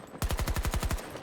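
Rapid automatic gunfire in the video game Battlefield 2042, a tight burst of about ten evenly spaced punchy shots fired close and loud, then a short fade.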